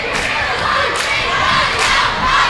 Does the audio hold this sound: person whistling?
no